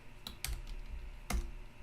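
Several sharp keystrokes on a computer keyboard, spaced irregularly with a couple of louder clacks, close up over a quiet background.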